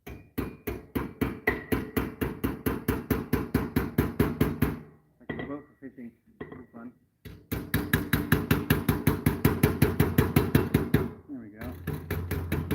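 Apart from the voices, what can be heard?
hammering metal to roll over sharp edges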